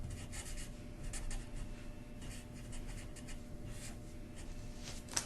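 Pen or marker scratching across a surface while sketching a free body diagram with a weight, soft continuous rubbing strokes with brief pauses, close and quiet, no talking.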